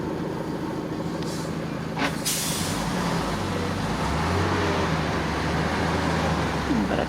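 A truck on a steep mountain road in Peru, its low engine drone shifting as gears change, heard from inside a nearby vehicle amid steady traffic rumble and a brief hiss resembling an air brake.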